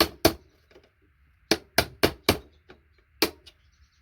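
Pliers prying IC chips off a circuit board give a series of sharp, close snaps and cracks, some in quick succession and others spaced out, with quiet gaps between.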